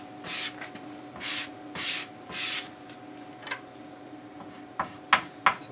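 Grip wax rubbed onto a cross-country ski base with a scraper, coat after coat: a series of soft, rhythmic scraping strokes up close, followed by a few sharper scuffs near the end.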